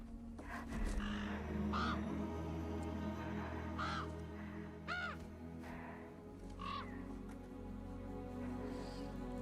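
Several harsh crow caws ring out at intervals, the bird named Arthur in an Apex Legends Bloodhound story, sounding fairly close over a low rumbling ambient bed.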